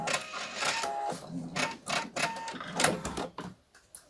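Sewing machine stitching a blouse, running in quick mechanical bursts of rapid needle chatter that stop and start, fairly close and moderately loud.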